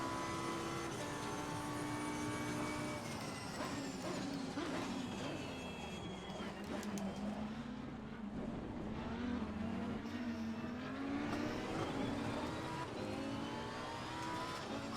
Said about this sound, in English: The roar of the engine was a little too much